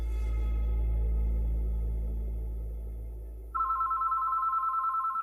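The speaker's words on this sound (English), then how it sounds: "the phone at Devin and Carrie's apartment began to ring" An apartment telephone bell rings in short, rapid bursts after a low rumbling drone fades, loud and close with no talk.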